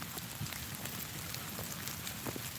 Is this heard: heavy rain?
yes